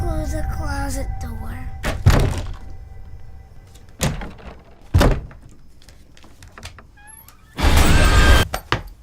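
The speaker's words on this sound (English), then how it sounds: "Can you close the closet door?" A closet door shuts with a few dull thuds and bumps spread between quieter stretches, near and fairly loud, with a voice briefly heard and some tonal effects in the background.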